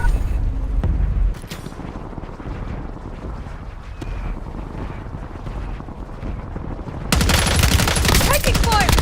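Gunfire in Black Ops 6 Warzone: a loud opening burst, a stretch of muffled rumbling combat noise, then a second loud, dense volley of shots near the end.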